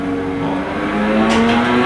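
Suzuki Swift ZC31 engine in a racing simulator game, a steady droning engine note holding a constant pitch, fairly loud and alone for about two seconds.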